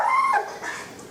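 A young dog on a lead lets out one short, high whine that drops off into a softer whimper, close and clear, with no talking over it.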